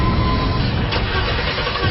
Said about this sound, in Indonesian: Aku berusaha menyalakan mobilku